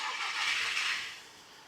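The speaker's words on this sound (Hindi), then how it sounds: "अब यहाँ पे हम इंजन स्टार्ट कर देंगे" A car engine started during an EOBD scanner diagnostic check, giving a broad steady whirring rush for about a second that then eases back toward idle, close and fairly quiet, with no talking.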